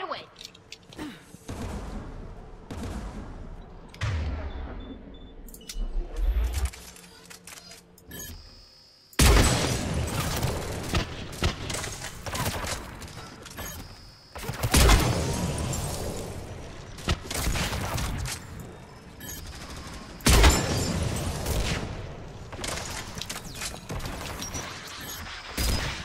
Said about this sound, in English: the anti-aircraft guns